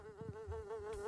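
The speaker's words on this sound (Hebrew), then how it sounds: "זה סוג של זבוב מה ששמעתי" A housefly buzzing in a steady, fairly faint drone, close by, with no talk over it.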